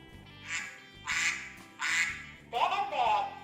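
A duck quacks four times in a row, each call a nasal, buzzy burst, clear and close with steady gaps between, the last one slightly rougher.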